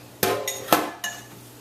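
A lid set onto a pot of oven-roasted pork before it goes in the oven, with two or three metallic clanks and a ringing tail, close and fairly loud, alone without talk.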